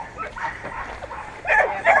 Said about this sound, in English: Dogs are going crazy.